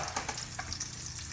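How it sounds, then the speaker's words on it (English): Food frying in a pan for a baked beans dish makes a steady, soft sizzle with a few faint stirring clicks, close but quiet. "we want these to fry for just a minute"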